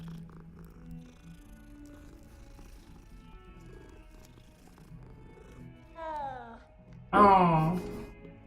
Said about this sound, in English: see cat, I pet cat.